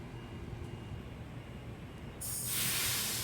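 An NSW TrainLink H set electric train pulls away from the platform at Cowan station on a morning peak, a steady low rumble joined by a loud rising broadband hiss from about two seconds onward, with no voices.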